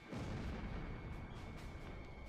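A destroyed armored vehicle in the combat flight game Ace Combat Zero gives off a deep, rumbling explosion with a sudden onset and a long, steady roar that continues at even loudness without fading.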